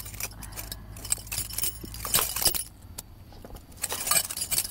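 Keys jangle and scrape against an ice-frozen lock in freezing weather, busy metallic clinking and rattling bursts up close, repeated as someone struggles to turn the key.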